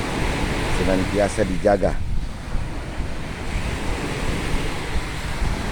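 Ocean surf rolls steadily onto the beach at Pantai Indah Pohe in Gorontalo, a broad wind-blown wash under a voice speaking briefly near the start.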